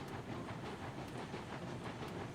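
A Heisler steam locomotive in the game Railroads Online rolls along with a steady, dense hiss and rumble, faint and continuous, with light rhythmic clicks faintly showing through.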